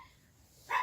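A dog named Harley lets out one short, fairly loud bark near the end, after a quiet stretch of faint room noise.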